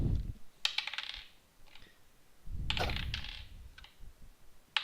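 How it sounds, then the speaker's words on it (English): Dice tumble and clatter on a hard surface in two quick bursts of sharp clicking rattles, separated by a pause. Soft background thumps sit under them, and no one speaks. "Dice rolling."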